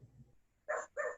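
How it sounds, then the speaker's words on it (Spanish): A dog barks twice in short, fairly loud bursts, somewhere near a classroom or lecture setting, after a low murmur. "escucho un perro por ahí"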